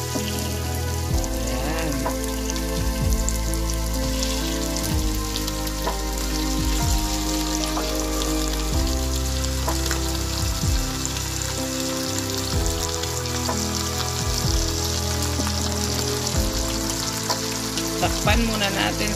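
Chicken for an Ilocano-style tinola sizzles and crackles steadily in a hot pan, a dense, constant frying hiss with a voice speaking briefly now and then.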